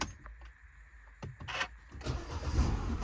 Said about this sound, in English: I'm just going to start the car